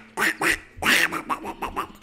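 A person imitates a duck with a run of nasal quacks, two short bursts followed by a longer quack and then several quicker ones, loud, close and alone.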